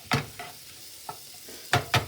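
Tortellini and Italian spice cook in a pan, with a faint sizzle under a few sharp, close stirring scrapes that come in uneven bursts, some in quick pairs.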